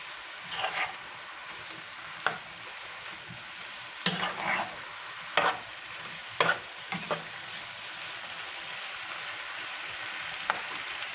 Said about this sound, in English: I'm going to mix well and then season up the pot